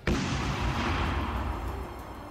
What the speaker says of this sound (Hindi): जिसकी वजह से वहां जोरदार धमाका हुआ।